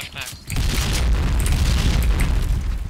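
A loud, close grenade explosion in the shooter game Point Blank booms after a brief quiet moment, followed by a sustained roaring rumble that fills the rest of the clip.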